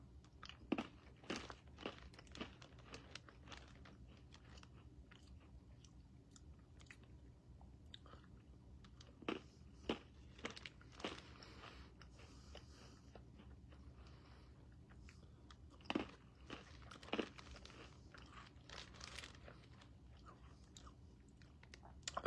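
Small crunchy cookies resembling ginger snaps are bitten and chewed up close, giving faint, sporadic crunches in short clusters with quiet gaps between them.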